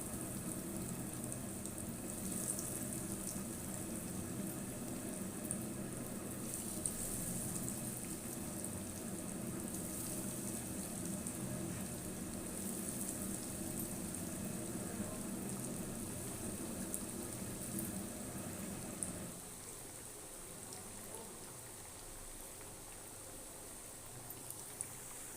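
Homemade chicken nuggets fry in hot ghee over a lowered flame, giving a steady, soft sizzle and bubbling hiss that continues evenly and settles a little quieter near the end.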